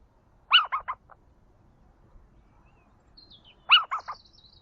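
A lone little owl gives two clear bursts of calls, each three or four quick yelping notes, separated by a few seconds of quiet with faint birdsong in the background.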